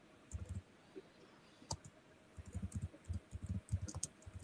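Rapid, uneven typing on a computer keyboard, a quiet run of soft clicks that comes in bursts with short pauses. No voices are heard.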